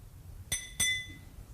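A glass of water on a lectern clinks twice in quick succession, two bright ringing taps close by with a short shimmering decay, over faint room hum.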